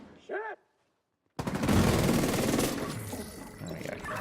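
In The Division 2, a short vocal grunt and a moment of silence come before a thrown grenade goes off in a sudden loud, broad blast that rumbles and slowly fades.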